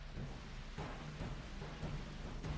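Torrential rain pours down through the night on soldiers camped in a Florida forest, a steady dense wash with a low rumble beneath and a few brief swells, heard alone without voices.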